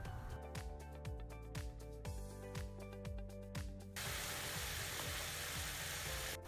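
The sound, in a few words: squid pieces sizzling while shallow frying in a pan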